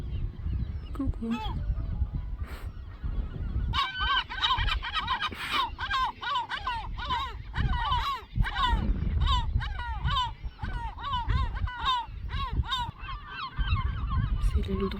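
A gull on the rocks of the Île d'Yeu breaks into a long laughing call, a rapid run of loud, close yelping cries repeated over several seconds above wind and wave noise, after a few shorter calls.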